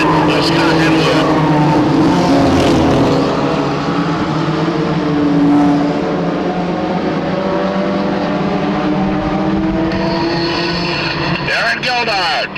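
Stock race cars running three wide down a short oval's backstretch, engines roaring loudly and continuously as they pass, with a race announcer talking over the noise.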